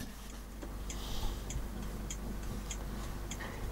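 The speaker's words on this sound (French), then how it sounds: "C'est une horloge qui a une histoire, bien sûr. Elle est Louis XIV d'époque" An antique clock from the Louis XIV period ticks in a steady, regular rhythm, its evenly spaced crisp clicks sounding close against a soft background hiss.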